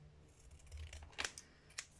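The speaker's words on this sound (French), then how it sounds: "on peut découper correctement le rectangle déjà" Scissors cutting a rectangle of paper for scrapbooking, quiet with a few crisp snips in close succession and a final snip near the end.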